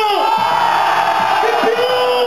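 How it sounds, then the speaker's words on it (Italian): Concert crowd at a live disco club show yelling and whooping loudly on command, a dense sustained roar of many voices with rising shouts throughout. "tu fate un cazzo di urlo!"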